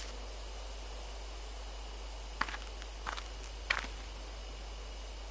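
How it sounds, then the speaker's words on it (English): Footsteps in the video game Spirit Hunter: three soft, brief rustling steps from nearby bushes, spaced about a second apart, over a steady low hum and faint hiss. "I hear footsteps again."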